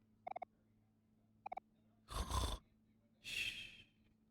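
A streamer playing Omori imitates a snore with his voice: two breathy, rasping snore-like pulls, each about half a second, following a few short, faint electronic blips from the game.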